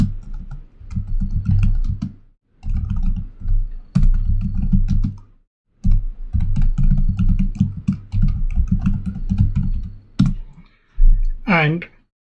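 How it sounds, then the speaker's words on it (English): Rapid clicking keystrokes on a computer keyboard, typed in short bursts with brief pauses, sounding close and fairly loud beneath someone talking. "you can type in your username"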